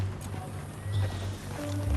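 Horse hooves clop in a steady rhythm under game music and ambience in Red Dead Redemption 2, with a faint whinny near the end.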